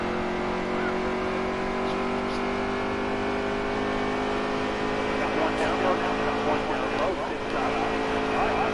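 Race car engine in a racing video game, a steady loud droning whine with layered harmonics held throughout, with a slight rise near the end.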